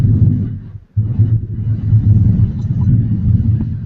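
Thunder rumbles as a loud, continuous low roll, broken by a short gap before the rumble swells again and keeps going.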